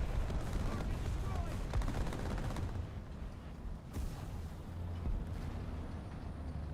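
Distant tank gunfire and battle rumble in the video game War Thunder, featuring M48 and M103 tanks, a steady low roar with scattered cracks and one sharper report near the middle, with a voice talking over it.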